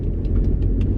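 Steady low engine rumble and road noise inside a moving car heading into town, a continuous drone with faint higher whooshes passing over it.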